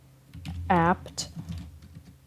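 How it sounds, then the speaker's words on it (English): Rapid clicking keystrokes on a computer keyboard as a terminal command is typed into a Debian 12 Linux system, close and clear, with a person speaking briefly over the keys. "I'll type it in with you for this one."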